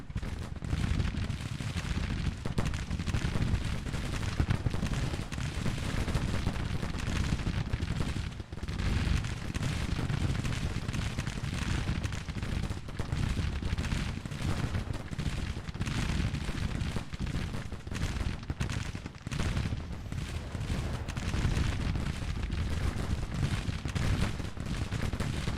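Artillery and gunfire in the Civil War strategy game Grand Tactician, a dense, continuous rumble of cannon and musket fire rolling on without pause at moderate loudness.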